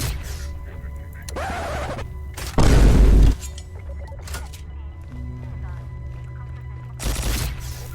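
Acid Gat wonder weapon in Garry's Mod firing bursts, loud hissing blasts of a few seconds each separated by pauses, set over a steady game drone with a voice talking between shots.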